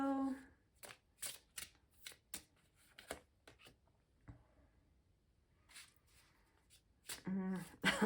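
Tarot cards are shuffled in quick, papery riffles and flutters spread across the stretch, with soft breaks between bursts; a voice speaks briefly near the end.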